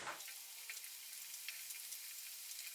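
Chicken pieces fry gently in oil over a low flame, giving a steady, even sizzle with small crackles throughout and no talk.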